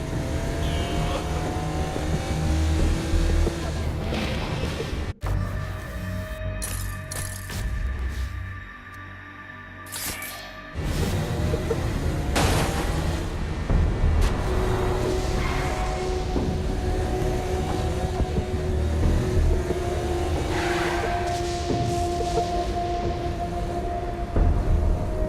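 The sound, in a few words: car driving in the video game Saints Row: Gat out of Hell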